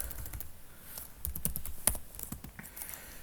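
Quiet, close keystrokes on a computer keyboard, a short run of irregular clicks and taps with one sharper key press near the middle, no voices.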